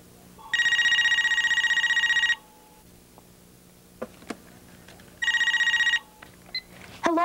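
Cell phone ringing in a school setting, two loud electronic ring bursts about five seconds apart, each lasting under two seconds, with quiet gaps and small clicks between.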